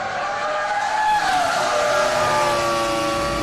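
A Formula 1 car in the F1 2003 video game at the German Grand Prix, its high engine whine sustained loudly while tires screech and the car nearly spins out in the last corner, with no voices.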